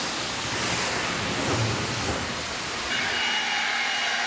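Steady broadband rush of water rinsing a cleaned surface, continuous and close, shifting slightly in tone partway through, with no talk.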